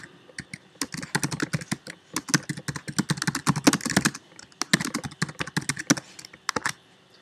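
Keys clattering on a computer keyboard as text is typed into a website builder: quick, uneven bursts of crisp clicks with brief pauses between them, close and fairly quiet, with no talking.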